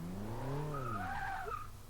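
Race car launching from the line in Forza 6 with the throttle mashed, engine note climbing slowly in pitch with a squealing tire skid, close and steady throughout.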